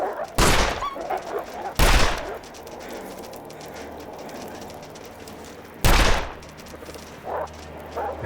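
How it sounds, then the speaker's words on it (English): Gunfire in The Long Dark survival game during an attack at Bleak Inlet: three sharp, loud shots spaced apart over a few seconds, with wind and ambient noise between them and a faint bird-like coo. "I feel like we got some good shots there."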